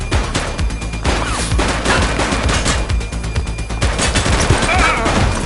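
Police shootout in the game The Precinct: loud, rapid volleys of gunfire crackling close by, almost nonstop for several seconds, with shouted voices mixed in.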